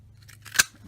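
A hand paper punch snaps once through a sheet of cardstock, a single sharp, crisp click close by with a faint low hum underneath and nothing else around it.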